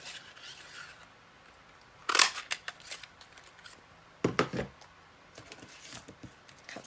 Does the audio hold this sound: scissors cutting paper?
yes